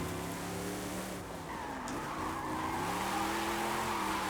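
Drift car in the Forza Horizon 5 racing game, tuned with drift suspension and around 470 horsepower, its engine droning steadily while tires squeal through a continuous slide, loud and close throughout with no talk.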